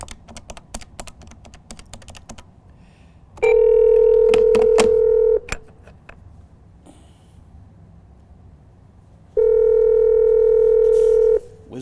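A steady telephone tone sounds twice in long stretches, broken up by rapid clicks and key taps while a number is dialed to put a caller on a radio show. The sound is loud and close, with no talking.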